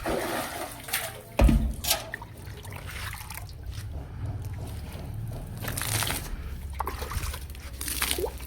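Water poured from a container onto a rooftop terrace, trickling and splashing in a steady, moderately loud stream with a sharper splash near the start, alone without speech.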